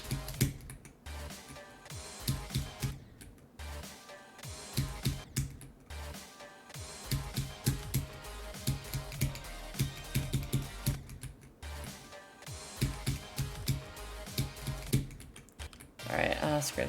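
Someone plays a video game with rapid keyboard and mouse clicking, close and uneven, broken by short pauses, with game sounds and occasional speech underneath.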